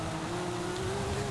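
Singer Porsche engine in the racing game Forza Horizon 5, holding a steady, continuous drone that edges slightly upward in pitch, heard alone without talk.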